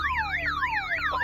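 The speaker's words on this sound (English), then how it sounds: "you go to try the handle and the alarm goes off" A car alarm sound effect wails continuously, with repeating rising-and-falling electronic siren sweeps, steady and fairly loud with no voices.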